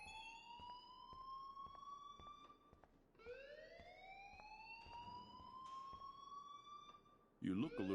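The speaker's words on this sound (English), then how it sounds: "please turn off that alarm" An electronic alarm wails in rising sweeps, repeating twice with faint clicks between, fairly quiet, ending in a sudden louder burst.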